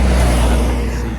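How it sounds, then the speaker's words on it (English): A truck passes close by on a narrow road, a loud, steady low engine rumble with broadband road roar that fades slightly toward the end. "I'm just gonna let this truck go past me"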